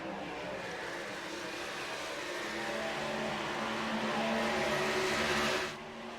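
Stock race cars, including a Chevy Impala, roar down the back stretch at Texas in a K&N Series 150-lap race, a steady engine drone swelling as the pack nears, then dropping off abruptly.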